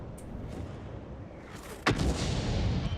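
A tank gun in World of Tanks fires a single sharp, booming shot partway through, with a rolling echo and rumble trailing after it over a low engine drone.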